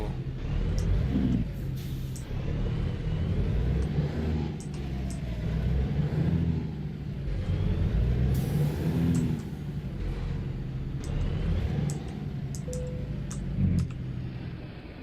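A Peterbilt truck engine in American Truck Simulator drones steadily while driving, a continuous low rumble that rises and falls gently with throttle and gear changes, loud and close throughout with no talking.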